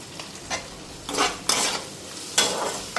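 Cabbage with green chillies, turmeric and salt sizzles in a pan, punctuated by several scraping bursts of stirring; moderate level, no talking.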